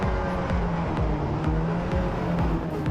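Several race cars at a GRIDLIFE Touring Cup start at Watkins Glen, engines roaring loud and dense, with repeated rising rev sweeps as they accelerate hard through the gears, no talk over them.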